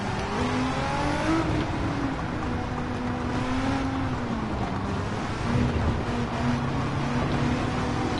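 An old 1990s Subaru Impreza in Gran Turismo 7 drones steadily under a whooshing road noise, its engine tone holding and shifting slightly in pitch, continuous and moderately loud with no talking.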